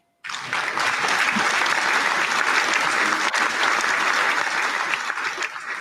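A canned applause track from an online conference plays after a brief silence, with dense, steady clapping that holds at an even level for several seconds.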